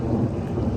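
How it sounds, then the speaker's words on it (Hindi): Rain starting outdoors, heard as a dense, loud, low rumbling wash that stays steady through the brief moment with no voices. "बारिश शुरू हो गई है।"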